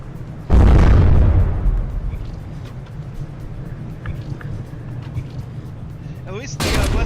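A ship's main gun fires in a From The Depths naval frigate battle: one sharp, heavy boom that rolls off into a long rumbling decay, with another burst of noise near the end.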